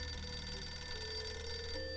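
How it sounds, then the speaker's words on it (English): A telephone rings in the video game Puzzle Agent 2, a steady electronic ringing tone with bright sustained overtones that runs continuously and fairly loud, with no talking over it. "But first we must answer the phone"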